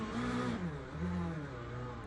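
A GT3 race car in the sim racing game Le Mans Ultimate drones at steady high revs, its engine note rising and falling slightly and running loud and continuous throughout, with no talk.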